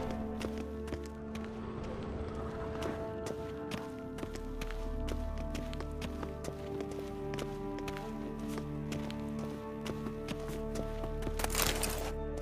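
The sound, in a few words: footsteps in the video game The Witcher 3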